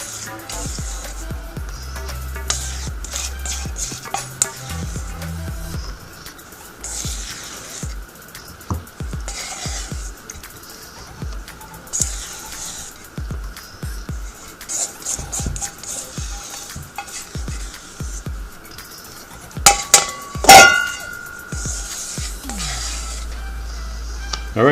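A spatula stirs and scrapes almond butter in a bowl, giving a long run of irregular close scraping and tapping strokes with a few sharp clinks against the bowl near the end.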